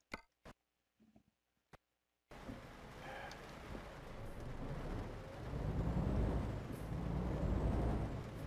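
Euro Truck Simulator 2 truck driving starts after a few scattered clicks and a pause, then a steady engine and road rumble sets in, building slightly and running continuously until the end.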